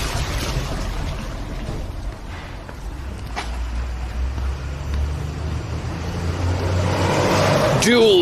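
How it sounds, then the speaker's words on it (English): A loaded Guinness truck packed with barrels drives past on a road, a steady low engine rumble that swells toward the end as it draws near, with talk over it. "a Guinness truck just goes by, packed to capacity with barrel after barrel after barrel"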